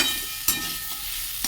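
Potatoes frying with onion, garlic, ginger and carrots in a pan, a steady close sizzle and hiss with a couple of brief stirring scrapes.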